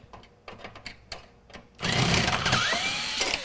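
Power tool whirring steadily as it backs screws out of a Dell XPS laptop, a loud continuous buzz with rising pitch sweeps that starts abruptly after quieter scattered taps and clicks.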